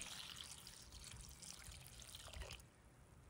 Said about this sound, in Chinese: 接着往里加水